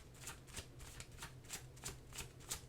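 Oracle cards are shuffled by hand in a steady rhythm of about eight quick riffling bursts, close and fairly quiet, with no talking.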